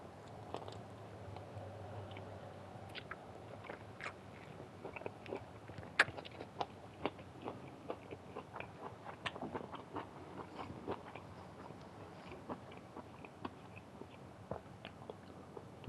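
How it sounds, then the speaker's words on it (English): Close, wet chewing and biting of food, with soft squishy mouth sounds and a string of small sharp clicks and crunches recurring unevenly throughout, quiet and alone with no talking. "You're getting some free chewing ASMR right now."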